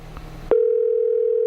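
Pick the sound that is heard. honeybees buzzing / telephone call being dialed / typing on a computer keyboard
telephone call being dialed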